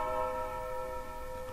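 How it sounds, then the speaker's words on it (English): A grandfather clock in a family home rings a sustained chime tone, quiet and steady with a lingering metallic ring and no talk over it. "There's my parents' grandfather clock."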